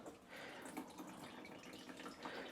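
Water draining from freshly watered houseplants through grates into a bin, a faint close trickle with scattered drips and splashes running steadily throughout, with no talking.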